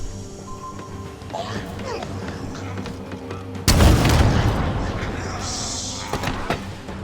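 Halo Infinite gunfire and rocket launcher shots: steady game ambience and scattered impacts give way to one loud, broadband boom midway, followed by a long rumbling decay and a few sharper hits near the end, with a voice talking over it.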